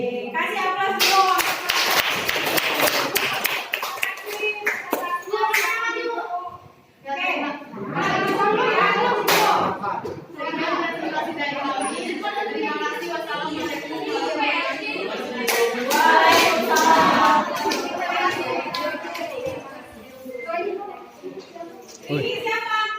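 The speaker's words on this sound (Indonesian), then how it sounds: "Kasih aplaus dulu" Classroom audience applause, a burst of clapping from many hands, children's voices chattering and talking over and between the rounds of clapping.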